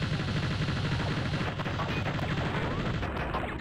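Aircraft cannon fire in the flight-combat video game Fighters Anthology, a fast, dense rattle of rounds over a constant loud jet roar, the shots running together with no gaps.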